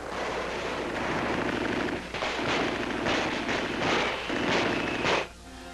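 Gunfire and artillery blasts in WWII Pacific combat during the drive on Manila, Bataan and Corregidor: a dense, continuous roar of repeated loud bursts and rumbling explosions, with no speech, ending abruptly.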